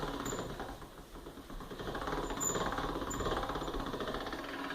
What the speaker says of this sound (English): And then you're going to put in the crank and you're going to crank it down